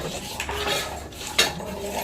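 Metal lid set down onto a cooking pot in a home kitchen, a soft clatter with a sharper clink near the end, close and fairly quiet amid light utensil noise.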